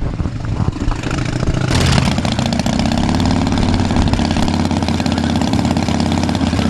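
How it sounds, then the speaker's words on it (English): A Harley-Davidson motorcycle engine idles up close, loud and steady, with a brief rise in revs before it settles into an even, throbbing rhythm. "So I've got my own Harley here."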